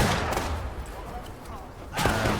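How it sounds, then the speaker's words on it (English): Musket gunfire in the War of Rights video game. A loud volley of shots opens the moment, then fades to a scattered crackle, and a second burst of firing comes near the end. "I'm going to go for a reload and have a shot"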